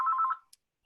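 A mobile phone rings during a town selectmen's meeting, giving one short, clear electronic ring tone of under half a second that fades out, followed by a faint click, with no talking.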